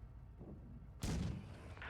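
A tank cannon shell is fired in a video game, a single heavy boom that hits suddenly midway and leaves a rumbling tail, after a softer low thump.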